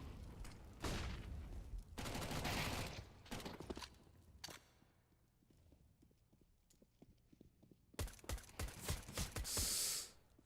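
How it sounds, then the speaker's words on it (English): Long-range gunfire from a competitive Counter-Strike: Global Offensive match comes in sharp bursts of rapid shots, loud at first, then sparse distant pops, then another dense burst near the end. "Long range shots"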